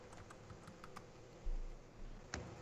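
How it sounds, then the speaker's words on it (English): Faint, sparse keystrokes tapped on a computer keyboard while a title is typed into a chat, scattered light clicks over a quiet background hum. "I'm typing it in the chat."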